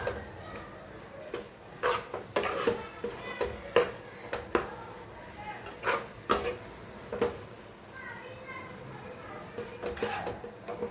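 A spoon scrapes and clinks against a pan while masala paste for pizza topping is stirred over a gas flame, with irregular taps and scrapes close by and a little background speech.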